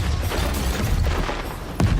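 Artillery fire in the video game Atomic Heart: a series of dull booms and bursts rumbling over about two seconds, with a sharper, louder impact near the end.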